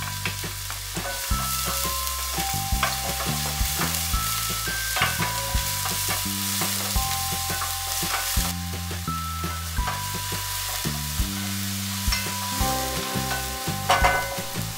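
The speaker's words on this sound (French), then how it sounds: "dans une sauteuse, nous allons y faire revenir notre petite préparation, c'est-à-dire l'ail, le piment et des morceaux de poivron pendant 30 secondes" Garlic, chili and chunks of bell pepper sauté in a pan with a steady sizzle and stirring, heard under continuous melodic background music.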